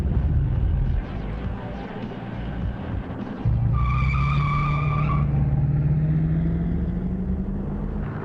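Race cars speed by with loud tire squeals, a long skid and a rising engine whine, up close and continuous, with a voice faintly underneath.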